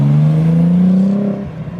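A car street drifting in Germany, its engine revving hard and loud close by with a rising whir, then easing off as it slides past.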